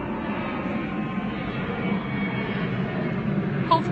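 Airplane passing overhead as a steady, broad engine rumble that swells slightly and holds, fairly close, with no voices over it.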